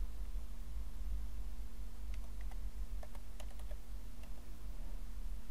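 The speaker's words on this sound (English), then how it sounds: "I'm gonna type admin from the beginning" Quick keystrokes on a computer keyboard, a short run of light clicks over a steady electrical hum and hiss, close but quiet with no talk.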